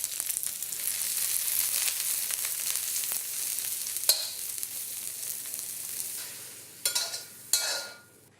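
Sliced mushrooms, green onions and minced garlic fry in hot oil for an Asian noodle and cabbage dish, giving a steady close sizzle that fades late, with a few sharp stirring clatters near the end.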